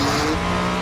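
A hypercar's engine revs hard and continuously, a loud, sustained mechanical roar with steady harmonic tones. The engine is a 1.6-litre V6 with Formula 1 technology, as in the Mercedes-AMG One.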